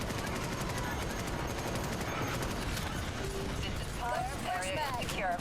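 Gunfire from gunners in the Starship Troopers: Extermination video game, a steady low rattle of shots in the background. Near the end, voices and radio chatter come in over it.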